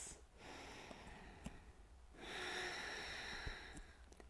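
Slow yoga breaths during a back flexibility flow, soft close exhales and inhales, faint and unhurried with a few small nasal puffs between them.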